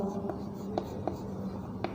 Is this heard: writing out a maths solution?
yes